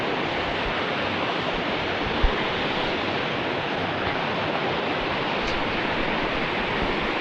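Steady broadband rush of river water flowing nearby on a sunny day, dense and continuous with no pauses, with a brief low thump partway through and no talking.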